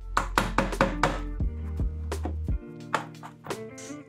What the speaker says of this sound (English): Chop a bit of garlic.